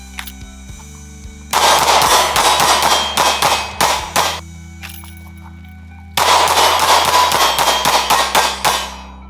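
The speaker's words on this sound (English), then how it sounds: "I'm just gonna keep shooting this jacket till it falls apart" Gunshots from a .380 pistol firing hollow point rounds into a leather jacket: two loud, dense bursts of rapid sharp cracks with ringing clangs, separated by a quieter stretch with a low steady hum underneath.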